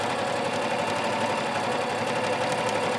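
A sewing machine runs steadily, stitching lines across fabric squares for hot pads, a loud, even mechanical whir with a fast rhythmic needle clatter and no pauses.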